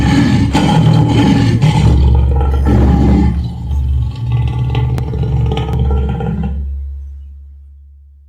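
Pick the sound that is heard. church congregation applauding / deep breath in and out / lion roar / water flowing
lion roar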